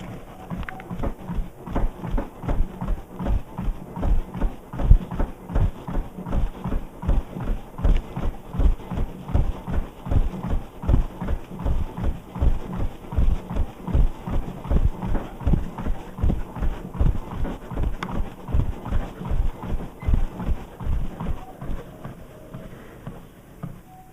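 Steady running footfalls pound a Yowza Sebring folding treadmill, a fast even thudding rhythm with the belt's low drone beneath, close and fairly loud throughout with no talking.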